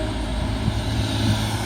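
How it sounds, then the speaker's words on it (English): A pair of coupled TransPennine Express Class 185 diesel units pull out of York, a loud steady low engine drone and rumble close by with no voices. "Departing now, a dual pair of Trans-Pennine Express 185s working a service"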